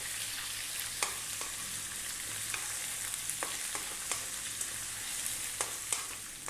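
Onions fry with curry leaves and spices in a pot over above-medium heat for a rohu fish curry, a steady close sizzle broken by sharp crackles and pops, with no voices.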